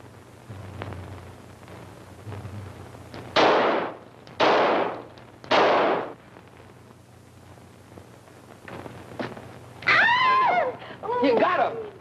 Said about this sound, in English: All right, Herbie, show him how we shoot.